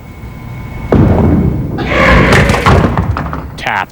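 A five-pin bowling ball strikes the pins with a sharp thud, followed by a loud clattering scatter of pins lasting a couple of seconds in a televised semi-final match.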